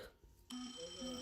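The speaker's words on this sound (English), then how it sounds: "Okay, so now we're just going to check all the main alarms." A fire alarm test in a flight simulator cockpit: after a quiet half-second, an electronic warning tone cuts in and pulses in repeated bursts at low volume.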